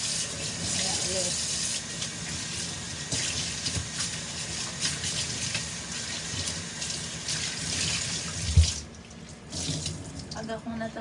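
Tap water runs steadily into a kitchen sink, a constant hiss for most of the stretch with a brief clunk near the end as the flow cuts off, while a voice talks faintly in the background.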